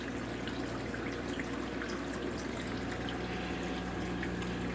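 Water trickles steadily through woodwork above an indoor pond tank, a soft continuous flow with a low pump-like hum beneath, even and unbroken throughout.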